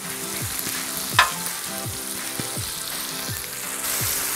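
Bulk sausage and red links fry on a Blackstone griddle outdoors, a steady loud sizzle with rhythmic scraping strokes of a spatula every half second or so and one sharp clank.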